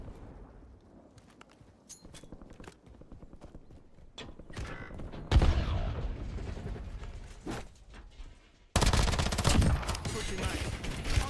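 Video game gunfire in a squad battle-royale match, sounding as bursts of sharp shots and loud crackling volleys that build toward the end, with clip-clop-like percussive hits mixed in.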